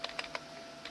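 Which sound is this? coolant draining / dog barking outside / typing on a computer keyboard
typing on a computer keyboard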